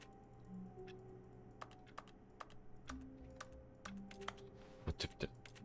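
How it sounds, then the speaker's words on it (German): Computer keyboard keys in The Stanley Parable are typed in sparse, irregular clicks, a few single taps and then a quick cluster, faint against a quiet office hum. "Mit jedem Mausklick macht der Tastaturgeräusche"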